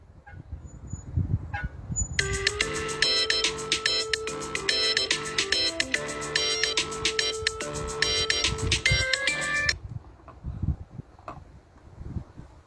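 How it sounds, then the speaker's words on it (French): A telephone ringtone plays for an incoming call, a bright electronic melody repeating in even phrases for about seven seconds, loud and clear over faint room noise before it cuts off. "il m'appelle sur le téléphone"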